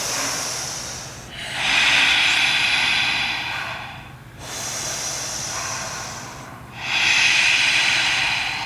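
A yoga instructor takes slow, deep breaths during a hamstring stretch, three long airy inhale-exhale cycles of steady hissing breath, close and clear with no talking.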